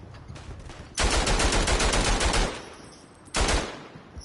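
Machine gun fire in a World War I video game: a long rattling burst of rapid shots, a pause with a quieter sustained tail, then a second short burst, loud and close.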